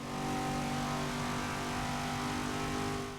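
A Cadillac CTS-V Sedan in Forza Motorsport 6 gives a steady, fairly loud engine drone with stable harmonics, holding a constant pitch throughout with no talk over it.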